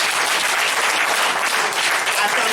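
A crowd at a political party congress applauds the DMP parties with loud, sustained clapping that fills the space evenly and steadily and never breaks, with no single voice standing out.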